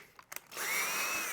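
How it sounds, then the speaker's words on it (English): A few small clicks and taps come first, then a power drill starts boring a hole in a pipe with a steady, close, high whine that holds to the end. "Got that one drilled."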